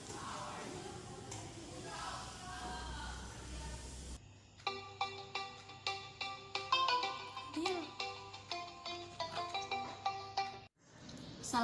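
A telephone ringtone plays in a repeating electronic melodic pattern, loud and close, after a few seconds of muffled room noise, as a teacher phones a student's parent.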